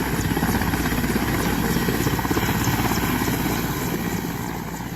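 A Peruvian army helicopter roars steadily nearby, its rotor giving a loud, continuous throbbing chop that holds level throughout without voices.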